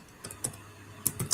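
Typing on a computer keyboard, a few scattered key clicks in small clusters, close and fairly quiet, with no voices.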